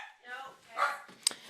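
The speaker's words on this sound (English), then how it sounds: "My dogs are saying hello." Dogs giving a few short barks and yips at medium distance, interleaved with a man's speech and followed by one sharp, higher yelp near the end.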